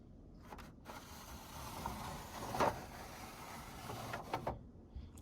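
Vintage Star Wars toy elevator sliding up and down, a plastic scraping and whirring rasp with small clicks, close and fairly quiet, with no talking.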